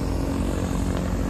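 Yellow CAP 10 propeller aircraft flying at an airport, a steady droning engine hum held at even loudness throughout, with no talk.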